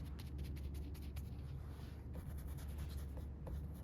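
Firm dry brush scrubbing and blending acrylic paint on a toast painting, a steady soft scratchy bristle texture with repeated short strokes, close and continuous with no talk.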